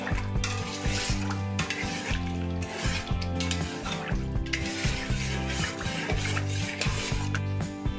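A spoon scrapes and stirs pickling brine with garlic, bay leaf, salt, sugar and peppercorns steadily around a metal pot, continuous rubbing and clinking with no talking.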